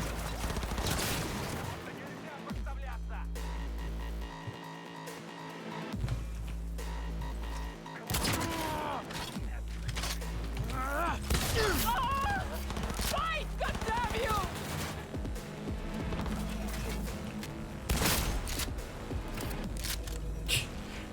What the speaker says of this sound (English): the shotgun is doing some real work.